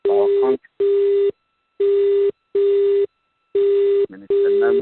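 A telephone line tone from a call ringing into a radio studio system: loud, evenly spaced beeps repeating in a regular on-off pattern, each about half a second long with short silent gaps.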